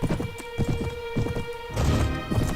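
A horse's hooves clip-clop steadily at a brisk gait in the medieval combat game Mount and Blade: Warband. The rhythmic thuds are close and clear, with a busier clatter of movement near the end.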